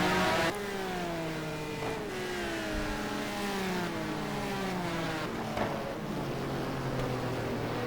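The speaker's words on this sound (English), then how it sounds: "we got a pair of Ferraris duking it out" Two Ferrari GT race cars battle closely in a racing video game at Valencia, engines revving high and steady with rising and falling gear tones, loud and continuous throughout.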